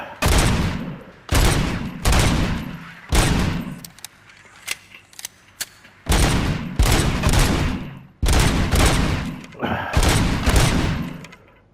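Gunshots at targets in the video game RoboCop: Rogue City, loud close bursts of rapid fire coming in separate volleys, with quieter single shots and brief pauses between them.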